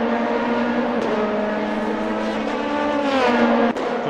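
Race cars lap the Motegi circuit in a sim racing game, several engines whining and shifting through gears together, loud and continuous with tonal sweeps and a brief snap of a gear change.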